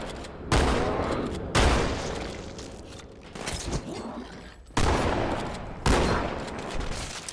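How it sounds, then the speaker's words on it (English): Shotgun blasts from Halo 2, on the Sacred Icon level at Legendary difficulty, fire as a series of loud, sharp booms roughly a second apart, each followed by a short decaying tail, with no talking. "So the shotgun still has some stopping power here, as you can see."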